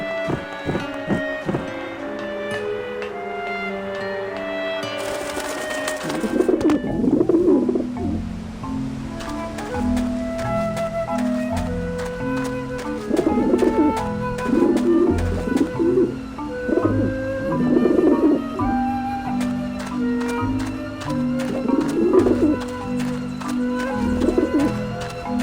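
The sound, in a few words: pigeons cooing in the video game Grim Fandango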